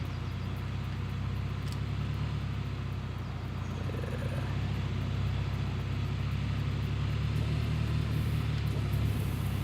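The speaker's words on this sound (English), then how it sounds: "Trying to tell me this little bitty bulldozer can't drive over a little bump" A small bulldozer's engine in the video game Gold Rush, driving over a bump in the snow: a steady, low rumbling drone that holds at an even level throughout, with no other sounds.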